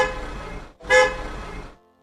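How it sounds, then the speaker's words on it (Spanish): Car horns honk on a busy city street, two blaring toots, the second louder and sharper, over steady traffic noise. "las bocinas de los autos aturden a quienes están cerca"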